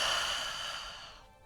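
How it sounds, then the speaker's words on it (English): A big, energizing breath taken during a yoga session for chest and shoulders: one long, close exhale sighing out gradually, audible as airy breath that fades over about a second and a half. "Let's take a nice big energizing breath"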